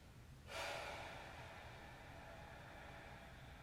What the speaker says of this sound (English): Let the breath slow